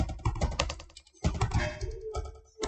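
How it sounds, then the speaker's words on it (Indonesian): A keyword typed on a computer keyboard: quick runs of close, crisp key clicks, a brief pause partway, then another burst of tapping. "di sini kita ketikkan kata kunci"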